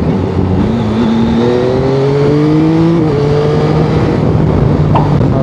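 A Yamaha Tracer 9 GT sport touring motorcycle engine on the road, loud and steady with a rising drone as the revs climb, a brief drop at a gear change, then a smooth cruising hum.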